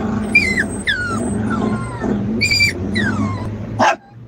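A puppy yips and barks in a series of short, high, whiny calls with a faint whimper, fairly close, over a steady background hum and distant traffic.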